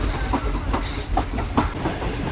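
A train running along the track through the Thar Desert near the India border, a steady rumbling roll with soft rhythmic wheel clicks, heard from inside or close by.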